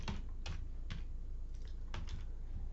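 Code being typed on a computer keyboard: a steady run of separate, crisp key clicks at a moderate pace, close and clear over a faint constant room hum, with no talking.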